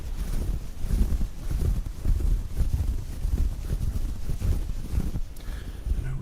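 City ambience layered with wind makes a low, rumbling, gusty wash that swells and fades in soft uneven pulses, steady and enveloping with no voices.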